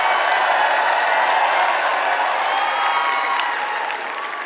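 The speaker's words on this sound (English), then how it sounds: "can we please have a round of applause for my real Miss Universe, Paula Sugar" Large arena crowd applauding and cheering at a Miss Universe pageant, a dense roaring wash of clapping and voices held at a constant high level, easing only slightly near the end.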